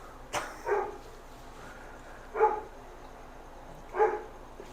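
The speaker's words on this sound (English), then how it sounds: "If you hear that dog, shut up, shut up, shut up, shut up. He's not going to shut up." Dog barking in the distance, three faint separate barks spaced out over a few seconds, with no talking.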